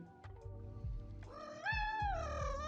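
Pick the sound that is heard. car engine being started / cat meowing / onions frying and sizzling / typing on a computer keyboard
cat meowing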